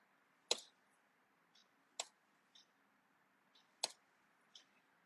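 Computer mouse clicks while designing a social media banner in Canva: three sharp, close clicks spaced about 1.5 seconds apart, each followed by a fainter softer tick, in a quiet room.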